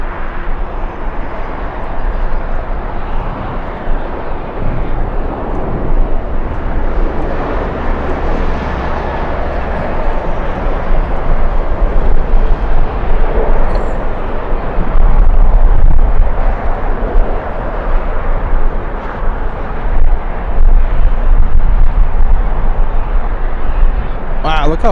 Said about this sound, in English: let's go for the arrival of the Aeromexico 737